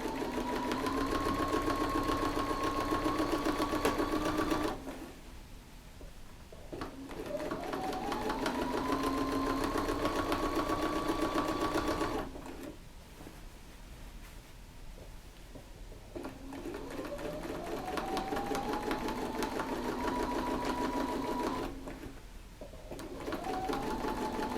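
Sewing machine with a walking foot stitching in the ditch on a quilt, running in three sustained whirring bursts that ramp up in speed, separated by short pauses, close and steady with no talk.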